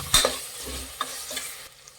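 Peas and turmeric stirred in a hot pan, a spoon scraping through them with a soft sizzle of frying underneath, a few brief close scrapes and taps, no voices.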